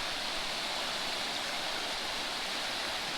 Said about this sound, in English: Look at those rapids right there.